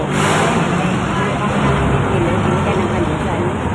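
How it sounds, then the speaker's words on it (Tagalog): Dense, loud roar of roadside traffic with many cars and other vehicles passing close by, a steady engine wash filling the air. "maingay kasi dito. Tapi kasi siya ng kalsada o maraming sasakyan na dumadaan"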